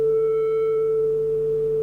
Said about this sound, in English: once again what we approximate is a sine wave in both sound and waveform